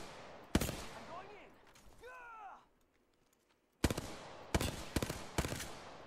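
Gunfire in the video game Apex Legends, sharp bursts of rapid shots near the start and again in the last two seconds, broken by a whooshing game effect and a brief quiet gap.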